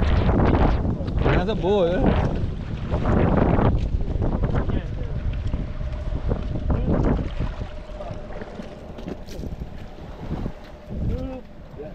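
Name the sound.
wind blowing at sea on a fishing boat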